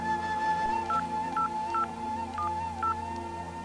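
Someone dials a phone to call his wife: five short keypad beeps tap out at irregular intervals over a steady background hum.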